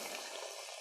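Pork cutlets frying in hot oil in a pan give off a steady, dense sizzle with constant crackle, close and fairly loud, with no voices over it.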